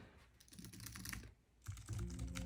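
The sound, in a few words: typing on Chesona KM4 keyboard keys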